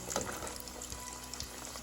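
Sweet puri dough sizzles in very hot oil, a faint, steady crackling hiss with small popping bursts throughout.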